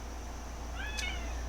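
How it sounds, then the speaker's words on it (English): A house cat gives a single short, faint meow in the background against a steady low hum, with no talking. "If y'all hear an eep in the background, that is my cat trying his best to get between me and my mousey."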